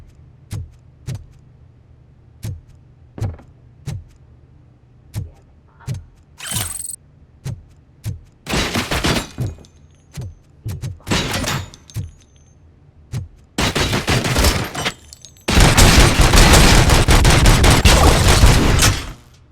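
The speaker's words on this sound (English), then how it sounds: "Oh, those UEDs shoot so beautifully. Too bad they're shooting at me!" Gunfire from UED robots in the video game RoboCop: Rogue City: sharp, evenly spaced shots at first, then longer dense bursts of rapid fire that grow louder and end in a sustained loud barrage.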